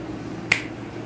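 One crisp finger snap, sharp and brief, sounds against a quiet, steady background.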